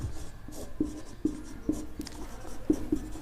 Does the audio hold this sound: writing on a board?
yes